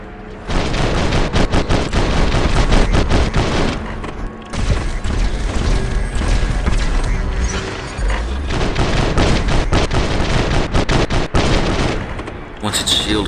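Heavy automatic gunfire from a Lynx robot in the War Robots game, rapid sustained bursts with loud booms and mechanical clatter running almost nonstop, briefly dropping out around the fourth second and near the end, under occasional talk.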